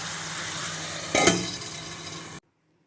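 Chicken with capsicum and onion sizzles in a pan while being stirred, a steady frying hiss with one brief louder scraping stir midway, close up, before cutting off to silence.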